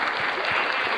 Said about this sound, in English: Big old applause.